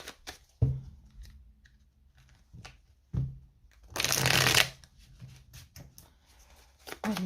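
Tarot cards are shuffled and cut by hand, bursts of riffling and flicking between soft taps and pauses, heard close up with no speech over them.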